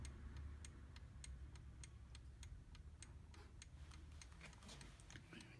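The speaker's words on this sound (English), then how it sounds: "The sound of a Metamec clock." Metamec clock ticking at a steady, regular pace, each tick a crisp faint click over a quiet low background hum, with no voices.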